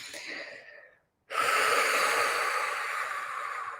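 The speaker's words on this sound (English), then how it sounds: "Let's take a deep breath." A person takes a deep, slow breath: a soft exhale trails off into a brief silence, then a long, loud, airy inhale continues close to the microphone, with no talking.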